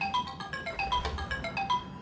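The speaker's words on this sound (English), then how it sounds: "Ah, that's my alarm." A phone alarm rings in a repeating electronic ringtone melody, bright and steady at moderate loudness, with no talking over it.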